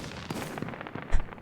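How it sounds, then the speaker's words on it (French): Fireworks going off in the video game Baladins, a run of quick crackling pops with a deeper boom near the end, moderately loud over a busy game soundtrack. "J'essaye les feux d'artifice."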